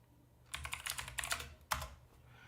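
Quick, light keystrokes on a computer keyboard during a sports watch party, a short burst of faint clicks with no talk.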